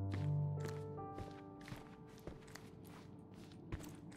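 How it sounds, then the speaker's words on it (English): Footsteps on the floor above in a Sherlock Holmes video game, a slow series of muffled thuds under a low sustained musical drone. "I heard footsteps upstairs a second ago"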